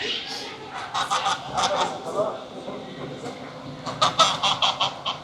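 Turkeys and other poultry at an outdoor market in Hurghada, Egypt, gobbling and honking in repeated bursts, with a quick run of calls near the end, heard over people talking.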